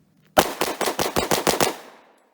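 Rapid burst of about eight pistol shots from a 1952 Romanian TTC Tokarev in 7.62x25mm at a range, loud and close, fired in quick succession and trailing off into a short echo.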